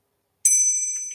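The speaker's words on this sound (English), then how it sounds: "Bell time. My sad little bell. It actually sounds pretty good." A small hand bell gives one clear ring that starts abruptly and then sustains with a bright shimmering tone, slowly fading, close and alone.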